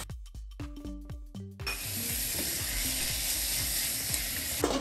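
Meat with salt and pepper starts sizzling in a hot pot, a loud, steady hiss after a few sharp clanks of a utensil against the metal, with scraping stirs continuing under the frying.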